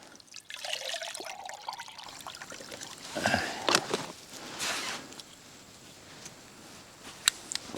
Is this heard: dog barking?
no